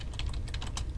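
Quick keystrokes on a computer keyboard during CAD text entry, a brisk run of light close clicks over a low steady background hum.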